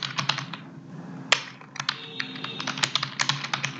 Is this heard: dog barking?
no